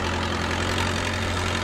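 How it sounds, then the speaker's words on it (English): A forklift engine idles in a virtual reality forklift training simulator, producing a steady, even low rumble with a constant mechanical hum, close and continuous with no speech. "Then drive the forklift forward."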